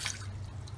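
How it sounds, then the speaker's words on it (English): Water streams steadily from the spider tubes of an evaporative cooler, a close, constant trickle and splash with no talk. "all of your spider tubes are pushing out water like this"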